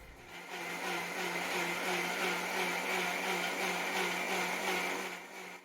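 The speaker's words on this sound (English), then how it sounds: "And here you can hear my grinder." An electric kitchen grinder whirs continuously as it blends mint chutney, a steady, moderately loud motor drone with a rough, churning texture that starts abruptly and fades at the end.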